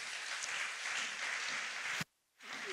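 Church congregation applauding during worship, a sustained, even clatter of many hands that cuts off abruptly, then a softer murmur returns after a brief silence.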